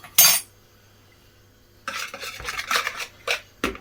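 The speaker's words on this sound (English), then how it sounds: "You can stir this occasionally." A utensil clinks and scrapes inside a pan of milk being heated for custard, with one sharp knock followed by a run of close, irregular stirring taps.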